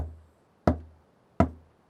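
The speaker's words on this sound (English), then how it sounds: "That knocking. How funny it sounds." Two sharp knocks on a basement door, well spaced and fairly close, each ringing briefly before quiet returns.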